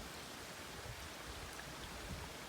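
Mountain runoff rushes steadily through a creek running along the back of a property in early spring, a soft, even wash of flowing water with no break or change throughout.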